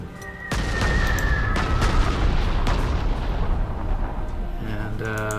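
Bombing in the World War II strategy game Panzer Corps 2 sets off a sudden heavy blast, then a long rumbling barrage of booms and crackling detonations, loud and continuous, with a brief tonal game effect near the end.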